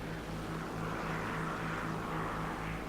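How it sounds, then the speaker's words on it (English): Twin-engine Tu-2S bomber in War Thunder, one engine already knocked out, droning past with a steady propeller hum and faint rhythmic throb, close and continuous throughout. "TU2S whizzes by me"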